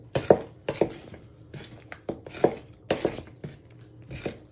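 A knife works eggs and yeast together into a wet strawberry-donut dough in a bowl, giving close, repeated sharp clicks and moist knocks in an uneven rhythm, with no talking.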